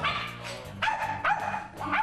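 A Spitz dog barks in sharp, repeated bursts close by, with short gaps and a slight whimpering quality between the loud yaps, alone with no voices.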